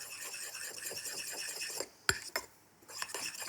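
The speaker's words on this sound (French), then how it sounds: "On va bien mélanger avec ma réduction." A spoon stirs a dollop of whipped cream into a champagne reduction in a pan, giving a steady soft scraping and clinking of metal against cookware, close up, with a sharper tap near the end.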